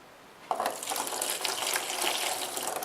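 Water pours and splashes from a pitcher into a tray while bottom watering bare-root strawberry plants, beginning abruptly and continuing as a steady, close, fairly loud gush with no talking.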